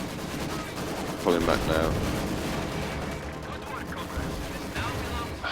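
Machine gun fire in a strategy video game rattles as steady rapid bursts beneath the battle noise, with someone speaking briefly over the gunfire.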